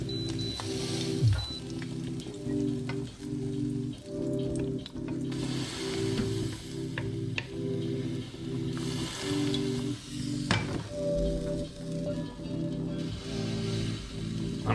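Food sizzles and spatters steadily in a hot pan while Bengali bhorta is cooked, a dense continuous crackle with bursts of popping and occasional stirring, close and fairly loud.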